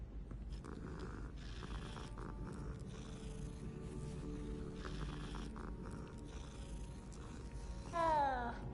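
A cat in the video game Hogwarts Legacy gives a short rising meow near the end, following a stretch of steady in-game ambience and music.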